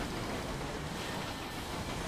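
A locomotive rolling through space in the video game Sunless Skies, a steady loud rumbling drone with faint rhythmic rail clatter, continuous and with no voice over it.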